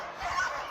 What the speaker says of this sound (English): Those dogs are barking right in our ears.